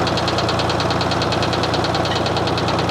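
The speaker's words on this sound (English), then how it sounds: "that exhaust pipe will resonate and start to move around" A Ford 4000 tractor engine idles after a repair, its exhaust pipe resonating: a loud, steady, rapidly pulsing diesel chug with a rhythmic knocking beat, close and unbroken.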